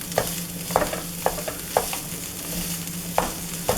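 Meat sizzling in a frying pan while being chopped up with a utensil, like hamburger meat, sharp scraping taps every half second or so over a steady close hiss.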